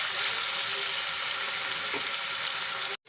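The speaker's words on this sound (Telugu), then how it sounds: "ఇక్కడ మనం వేసిన అల్లం వెల్లుల్లి పేస్ట్ అయితే చక్కగా పచ్చివాసన పోయేదాకా ఫ్రై చేస్తాము" Ginger garlic paste and onions fry in a pan for a chicken fry, a steady, loud broadband sizzle that runs unbroken before cutting out abruptly at the very end.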